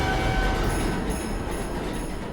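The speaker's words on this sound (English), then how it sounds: "On board the number 2 IRT train on this Christmas Day" Inside a New York City number 2 IRT subway train in motion: a continuous rumbling roar of wheels and carriage with faint high whining tones, steady throughout.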